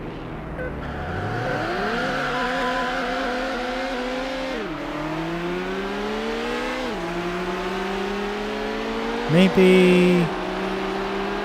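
A Ferrari 360 Modena races in Need for Speed: Hot Pursuit 2 on PS2, its engine whining up through several gears with sharp drops at each shift, then a short burst of tire squeal near the end. A voice speaks a single brief word.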